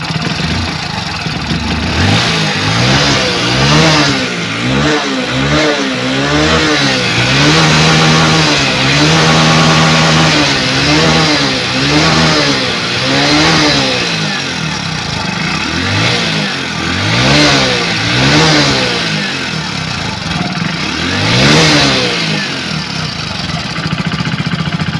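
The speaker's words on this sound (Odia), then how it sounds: "ଦେଖିବା ଗାଡ଼ି ରେସ୍ ନେଉଛି।" A Hero HF Deluxe BS6 motorcycle engine revs up and down repeatedly, close and loud, in rising and falling surges over a steady running note, with no talking.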